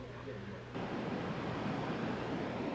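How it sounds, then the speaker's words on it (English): Rushing river water by a mill on the Weiss in Alsace, France, a steady broadband roar of flowing water that grows louder and fuller after a brief quieter opening, continuous and close. "I guess they must have made something with this rushing water at some time."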